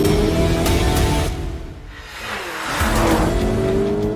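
Lamborghini Urus Performante SUV driving, a loud engine roar that dips briefly then swells again as it accelerates, heard close with a rushing whoosh layered over it.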